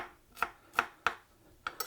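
A knife slicing through peppers on a cutting board, five crisp chopping taps at an uneven pace, close and clear with no talking.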